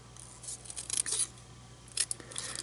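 Scissors cutting cardstock for a handmade greeting card, with a few short crisp snips close by, bunched in two small clusters over faint background hum.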